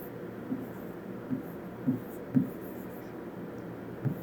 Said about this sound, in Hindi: तो हम यहाँ पे लिख देते हैं